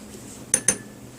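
A metal spoon clinks twice against a container while measuring out shampoo, two sharp, bright taps close together, close-up and otherwise quiet.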